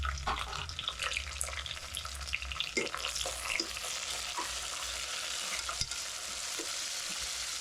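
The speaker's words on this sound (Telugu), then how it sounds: "ఇప్పుడు నేను పచ్చిమిరపకాయలు వేస్తున్నాను" Onions and green chillies fry in a pan, a close, crackling sizzle with scattered sharp pops and stirring scrapes throughout, no talking.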